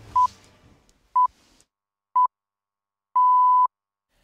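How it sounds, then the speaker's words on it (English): An old wall telephone at the Makuri Country Club being called: a short burst of dialing noise, then three short beeps and a longer tone, clear and isolated against silence. "we call the old phone on the wall at the Makuri Country Club where the minister was"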